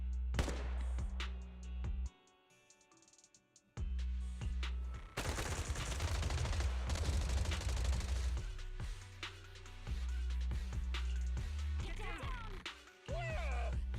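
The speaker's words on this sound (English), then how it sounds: "Gunfire? This pattern. Suppressive marching fire." Sustained suppressive gunfire from several directions in the video game Zenless Zone Zero, with bursts of rapid shots, heavy low booms and brief drops to near silence amid battle effects.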